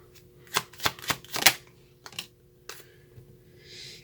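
Tarot cards being drawn and shuffled by hand, a quick run of crisp riffling snaps followed by a couple of softer slides and a faint rustle, close and clear.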